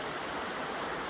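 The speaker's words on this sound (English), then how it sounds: "So this wonderful creek here" A creek flows in a steady, even broadband rush, continuous and fairly close, with no other sounds standing out.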